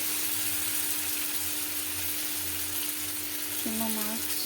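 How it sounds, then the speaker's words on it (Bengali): Chuno fish curry with onion stalks fries in a pan, giving a steady close sizzle and crackle throughout, with a brief voice-like tone near the end. "এই আমি এখন রান্না করছি, এটা পেঁয়াজ কালি দিয়ে চুনো মাছের ঝাল।"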